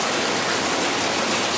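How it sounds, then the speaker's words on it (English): Torrential downpour pours steadily outdoors by a concrete patio, a dense, loud, unbroken hiss of heavy rain filling the whole moment with no voices. "Yep, huge downpour rain."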